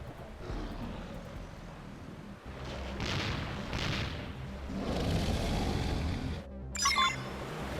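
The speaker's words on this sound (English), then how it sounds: "Missile volley." Missile volley in Xenoblade Chronicles X: a sustained, rumbling barrage of low booms and blasts swelling over several seconds. A sharp bright burst near the end cuts through the din.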